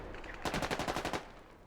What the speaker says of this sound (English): think that was a rifle grenade, an anti-tank rifle grenade into the side of that Humvee